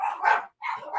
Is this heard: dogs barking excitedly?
yes